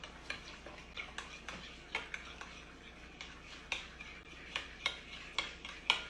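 A crab meat stuffing mix seasoned with Old Bay and garlic salt being stirred, the utensil scraping and clicking against the bowl in a steady run of close, sharp taps with no talking.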